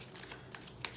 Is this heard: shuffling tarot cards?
yes